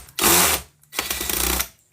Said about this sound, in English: This is an impact wrench